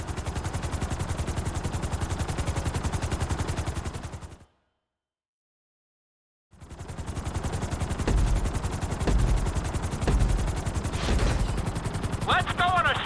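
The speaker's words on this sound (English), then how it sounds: "we're gonna put you in a helicopter for this lesson" A helicopter in GTA V with a dense, rapid rotor chop and engine roar that cuts out to silence for about two seconds before the thudding resumes, with some sharper clanks and bursts layered on top.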